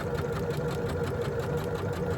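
A sewing machine runs steadily, stitching a rag doll's body seam at a quarter-inch seam allowance and 2.8 stitch length, its fast, even motor hum and needle rattle continuous throughout with no voices.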